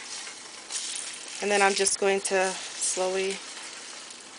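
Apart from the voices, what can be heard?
eggs scrambling and frying in a pot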